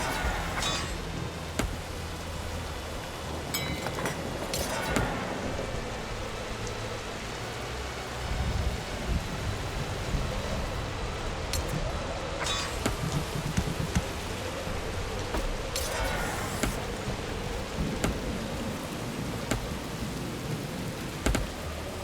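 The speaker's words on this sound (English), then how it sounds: "Another energy storm?" Magical energy storm in the fantasy strategy game Dungeons 4, with steady heavy rain and repeated rumbling thunder rolling through the whole stretch, loud and close.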